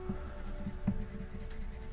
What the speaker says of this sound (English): Now in the very center I want white, so I'm using the white pencil